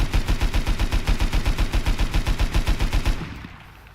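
LR300 assault rifle in the game Rust firing a rapid automatic burst of about twenty-five evenly spaced loud shots over three seconds, then stopping as the last report fades away.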